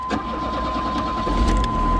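An 80s Pontiac Sunbird engine runs after its distributor bolt was tightened, a low steady idle that swells into a deeper rumble near the end, with a thin constant tone above it.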